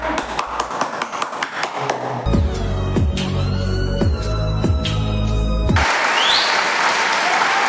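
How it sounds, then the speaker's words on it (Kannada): Applause from an audience, dense clapping that comes in after scattered sharp claps and carries on under music toward the end. "ಎಲ್ಲರೂ ಚಪ್ಪಾಳೆ"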